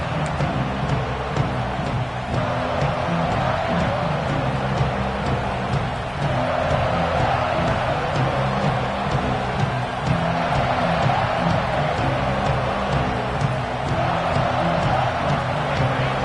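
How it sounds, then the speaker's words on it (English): Stadium crowd at an Ole Miss versus Georgia college football game early in the contest, a dense, constant roar filling the space at high volume with no lulls. "Listen to the crowd energy here in the early going."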